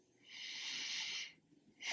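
A deep inhale drawn slowly through the nose before a sound bowl session, a hissing breath over about a second, then a short gap and a second breath beginning; close and alone, no speech.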